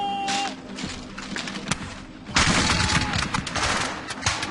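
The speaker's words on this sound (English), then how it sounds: "The French begin to fire before they're within range." French troops fire a volley of musket gunfire, a ragged crackling fusillade of many overlapping shots that swells loudly midway and continues in scattered bursts, with battlefield noise throughout.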